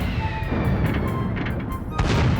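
A weapon fires at monsters crossing a bridge in the Dragon Quest Heroes video game, producing dense rumbling bursts and booms over a continuous battle din, loud throughout.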